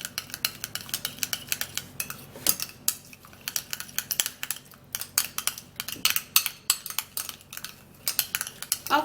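A paste being stirred in a bowl with a utensil, giving a steady run of quick, close scraping clicks and taps against the bowl, with no talk over it.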